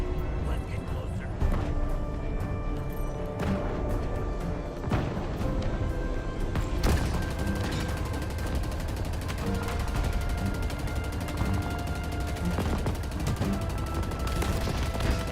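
Rapid bursts of Ravager weapon fire in the shooter game Halo Infinite, dense and continuous over steady game noise, with spoken voices running alongside.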